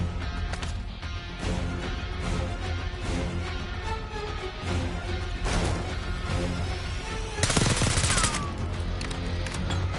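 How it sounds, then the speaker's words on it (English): A minigun in Black Ops 6 lets loose in sustained, thundering bursts, broken by sharp impacts and a loud crashing blast near the end, all close and dense with no talk over it. "Stay low until that minigun stops spinning."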